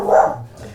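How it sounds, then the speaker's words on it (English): A dog gives one loud, close bark that fades quickly into quiet background. "There's a dog barking"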